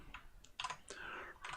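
Two or three quick clicks and clatter from a computer keyboard while a key combination is pressed in VS Code, close and dry, with short bursts of keystrokes separated by brief pauses.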